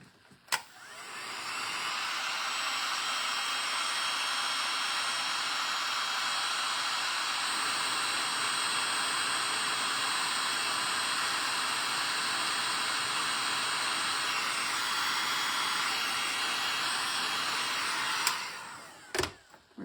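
A handheld dryer blows a steady hissing whir over wet paint on a snowman craft project, switching on, running continuously and evenly for most of the time, then clicking off.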